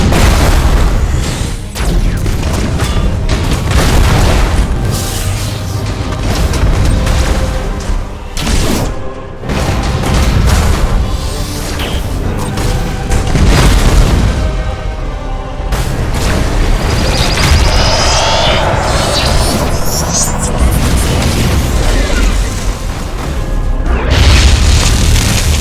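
Thunderhawk bombardment in the video game Battlefleet Gothic Armada 2, with loud, continuous rolling booms and heavy blasts overlapping one another throughout, dense and sustained with brief dips between impacts.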